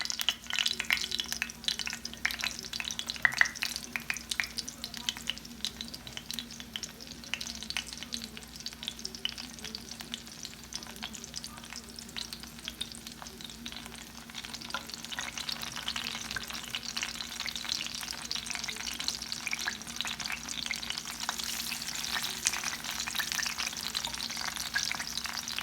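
Crab and corn fritters sizzle and crackle steadily in a hot pan, a continuous bright frying hiss with a faint low hum underneath and occasional spits, no talking.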